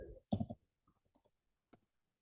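Computer mouse clicks at a desk while working in Revit, a louder burst of clicking followed by several quieter, scattered single clicks, close and dry with no talking.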